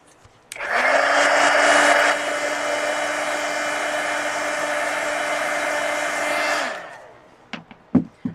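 A hair dryer blasts steadily on an art journal page to dry wet marker, starting abruptly after a click, holding a loud even whooshing drone with a slight drop in pitch partway, then shutting off before a few light taps.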